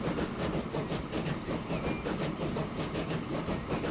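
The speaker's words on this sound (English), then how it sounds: "Our first train is in action." A train in the Transport Fever 2 game rolls along its rails with a steady, continuous rumble and faint rhythmic clatter, loud and even throughout with no talking.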